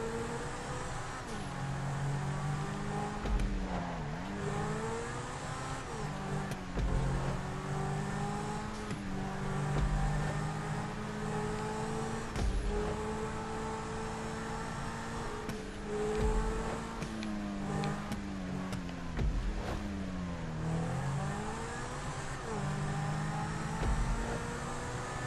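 A car in GTA 5 drives continuously with its engine humming and revving up and down through gear changes, steady and close with no talking over it.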